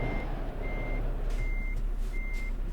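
Regular reversing beeps from a truck in Euro Truck Simulator 2, four evenly spaced steady tones over a continuous low engine drone, clear and moderately loud with no voices.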